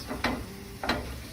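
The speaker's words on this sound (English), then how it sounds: "So I am going to flip my bellinis." Bellinis flipped in a frying pan at a 4-H food preparation demonstration: two short scraping flip bursts over a steady, close sizzle.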